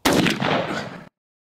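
A Rossi Tuffy Turkey 20 gauge shotgun fires a single loud, close blast, the sharp crack trailing off into a brief echo before cutting to silence.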